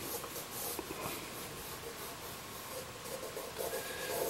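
Pencil scratching and rubbing across a 10 by 8 sheet of watercolour paper in quick light strokes, close and continuous with no voices, laying out a rough sketch of a snowy barn scene.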